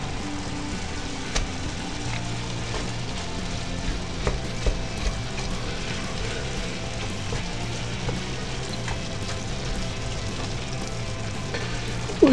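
Shepherd's pie filling frying in a pan, a steady loud sizzle with occasional scraping stirs throughout, close up and uninterrupted by speech.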